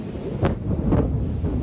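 Loud thunder from an overnight storm with flash flooding around Knoxville and Powell rumbles heavily, with a couple of deep booming swells over steady rain and wind noise.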